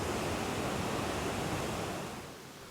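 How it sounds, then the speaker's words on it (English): Athabasca Falls, a powerful glacier-fed waterfall raging through rugged mountain terrain, gives a steady, dense roar that fills the air evenly and without pause, tapering slightly at the end. "Raging through the rugged terrain, this is a powerful and gorgeous waterfall"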